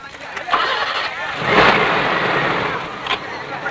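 A car engine turns over and catches, then revs and roars as the vehicle pulls away, loud and close, fading into a steady drive-off hum.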